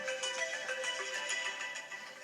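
A phone ringtone goes off indoors, a bright, repeating electronic melody that stays fairly soft and steady throughout.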